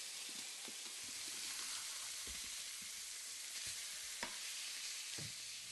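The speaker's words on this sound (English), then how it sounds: "After browning on one side, turn the fish to brown the other side." Fish browning in a covered NutraEase cookware pan sizzles with a soft, steady frying hiss, broken by scattered crackles and small pops; it is quiet, close and alone.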